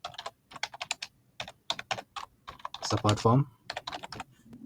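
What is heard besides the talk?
typing a form title on a computer keyboard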